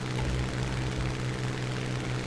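A stock Hawker Hurricane Mk I propeller fighter in War Thunder drones steadily in flight, its engine a constant low, buzzing hum with a strong steady pitch and no pauses.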